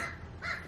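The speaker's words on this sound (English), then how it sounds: "Crows, I swear." Two harsh crow caws in quick succession, fairly close and clear over a low background hum outdoors.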